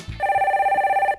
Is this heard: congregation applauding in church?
no